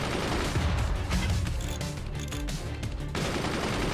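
Dense, continuous gunfire and cannon bursts from a fort battle in the Forts strategy game, loud and rapid with overlapping impacts and no pauses.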